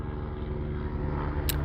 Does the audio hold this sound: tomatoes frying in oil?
no